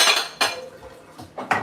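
Cutlery and dishes clink and clatter while being washed, several bright metallic and ceramic knocks arriving in uneven bursts, close and fairly loud.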